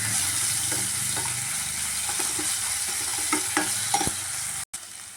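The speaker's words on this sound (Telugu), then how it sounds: "కొంచెం ఉల్లిగడ్డ మగ్గిన తర్వాత అల్లం వెల్లుల్లి పేస్ట్, కొంచెం అల్లం వెల్లుల్లి పేస్ట్ వేసుకొని కలిపేసుకున్నాం." Onion with ginger garlic paste stirred in a frying pan, a steady sizzle under scraping spoon strokes and light knocks against the pan, close with no talk.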